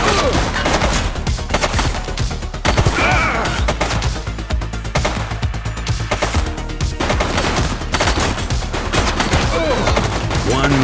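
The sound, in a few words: gunfire in video game The Precinct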